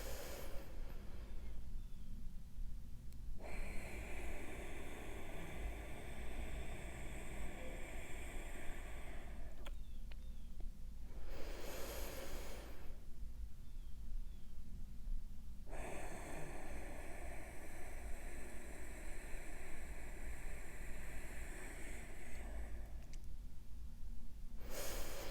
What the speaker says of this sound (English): The exhale is elongated all in and out of the nose.